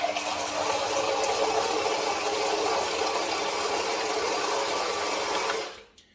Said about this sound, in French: Je démarre maintenant le shaker.